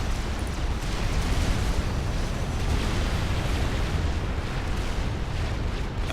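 Unbroken rumbling explosions from the real-time strategy game Supreme Commander: Forged Alliance roar loudly for several seconds, forming a thick, steady wall of blasts with no pauses.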